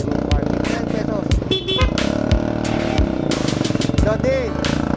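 Motorcycle engines idle and rev among the crowd at Malabon Central Market, with sputtering putts and a brief horn toot, close by and mixed with people talking.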